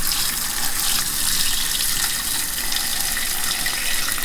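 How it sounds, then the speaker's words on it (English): Hot bone broth made from leftover turkey bones pours out of a tipped bowl in a steady, loud, close gush of liquid with no break. "Try to keep the stuff from pouring out"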